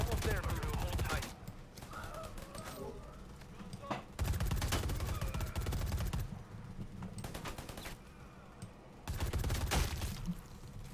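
Bursts of rapid automatic gunfire from a mercenary firefight in the Predator: Hunting Grounds video game, loud volleys alternating with quieter gaps, with voices talking over the action.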